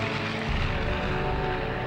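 Propeller-driven bombers skim a few feet above the water, a broad, continuous droning roar holding steady and loud throughout, with no voices over it.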